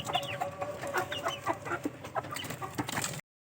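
A hen clucks repeatedly, up close, over a rustling outdoor background, with no voices for about three seconds before it cuts to silence.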